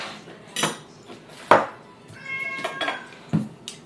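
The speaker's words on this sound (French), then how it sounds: "Pourquoi tu miaules comme ça?" A pet cat named Ninoun meows in a kitchen while onions are being prepared. The meows are faint and drawn out, mixed with clinking cutlery and dishes nearby.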